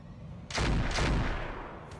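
Turrets firing in a base-defence video game, two heavy booming shots in quick succession followed by a lingering rumble and a fainter third report.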